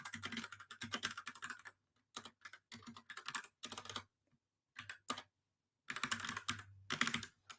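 A computer keyboard clatters in quick bursts of typing and clicking while a link is copied, with short silent gaps between the runs of keystrokes, fairly close and with no one speaking.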